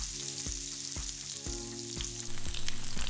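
Salmon fillet pan-frying skin-side down in oil, Chinese style, the skin crisping as it cooks; a steady bright sizzle runs throughout with soft periodic knocks, close and continuous with no talking.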